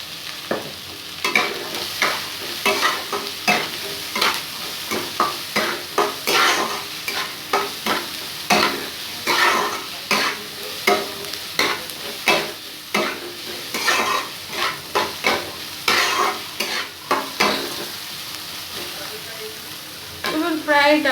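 Chopped carrots with a pinch of salt sauté in a pan for oats upma, sizzling steadily while a spatula stirs and scrapes in quick repeated strokes, close and fairly loud throughout.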